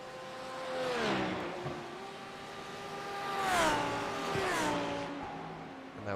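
A Lamborghini GT race car engine in iRacing qualifying at Silverstone revs hard and loud, pitch climbing through gears with shifts and dips, tires squealing briefly through the corners.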